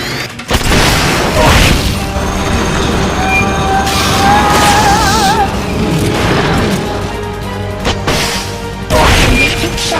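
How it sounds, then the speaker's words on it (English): Spacecraft boosters fire in a Metal Gear video game with a loud, sustained roaring rumble, overlaid by whining tones that rise and fall, and a sharper burst near the end. "Firing boosters."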